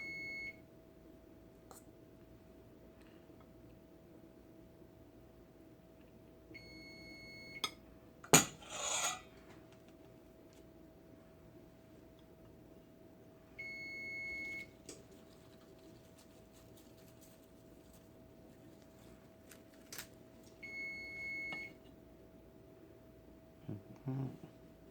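A kitchen timer beeps in short high bursts at intervals in a quiet kitchen during crab cake cooking, with a steady hum underneath and occasional clatter of pans.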